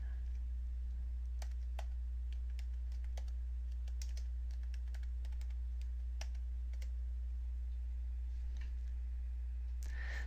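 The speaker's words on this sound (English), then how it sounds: "Type your full name and click Enter." Someone types on a computer keyboard in Microsoft Word, producing irregular light key clicks spread across a steady low electrical hum, close up and with no voices.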